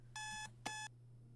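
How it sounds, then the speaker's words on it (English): Two bursts of a shrill electronic alarm clock beep in the video game Butterfly Soup 2, each lasting a fraction of a second with a brief gap between, alone over a low hum. "Diya's alarms go off."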